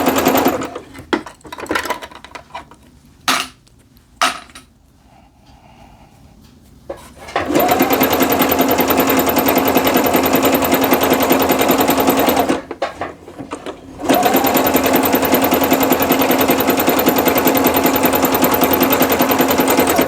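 A sewing machine runs fast and steady along a pant leg seam on joggers. A long continuous whir is broken by one brief pause before it resumes, and a few sharp clicks and faint handling noises come first.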